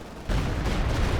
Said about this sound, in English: Stuka barrage coming in